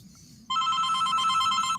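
A telephone bell rings loudly and close, a sustained trilling ring that starts abruptly after a quiet moment and continues to the end, with faint background murmur before it.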